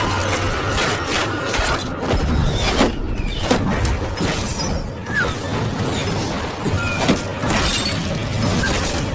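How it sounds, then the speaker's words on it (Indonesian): A secret sample breaks apart after a trap is triggered in a fantasy film, heard as a long, loud, dense stretch of shattering and crashing debris with mechanical rattles and repeated impacts that run continuously throughout. "jebakan itu menyebabkan sampel rahasia pecah"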